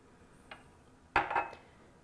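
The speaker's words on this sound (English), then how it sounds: "I'm just going to strain it into a little serving dish and set it aside" Sauce strained into a small serving dish in a kitchen, a faint clink followed by a short, brighter clatter of metal against ceramic, quiet and close.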